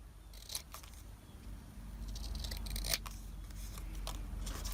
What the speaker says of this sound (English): Just going to use my scissors.